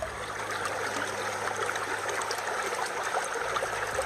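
Creek water flowing steadily near a gold-panning spot, a continuous close bright rushing and trickling with no pauses and no voices over it.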